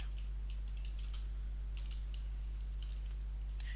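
Keys tapped on a computer keyboard while someone types a file location for the Facebook PHP SDK: soft, uneven clicks in short bursts over a steady low electrical hum, with no talking.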